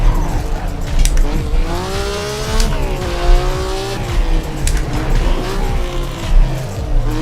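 A classic GT sports car on a street track near Napoli pushes through a hot lap, its engine note loud and close as it rises and falls through the gears, with tire squeal over a steady rumble.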